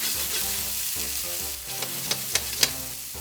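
Butter sizzles in a pan with softened onions and mushrooms, a loud close frying hiss with occasional sharp crackles and pops toward the end, with no voices.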